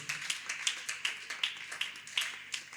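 A church congregation claps together in a steady, quick rhythm to acclaim Jesus Christ, producing close, crisp hand claps with no pauses.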